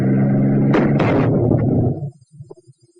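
An infantry anti-tank weapon fires at a tank at close range during World War Two training, two sharp, loud blasts close together, then a fading rumble and a few faint clatters over low background hum.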